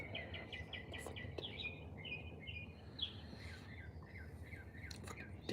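Several birds chirp and sing outdoors on a sunny day, repeated short high tweets and trills over a soft, steady background hiss, fairly faint and with no talking.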